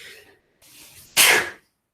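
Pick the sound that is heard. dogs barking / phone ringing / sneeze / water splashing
sneeze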